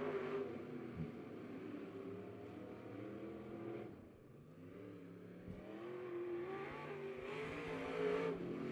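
Dirt-track race cars roar around Lebanon Midway Speedway with a lap and a half left, engines revving and swelling as the field passes, a continuous loud growl rising and falling through the clip.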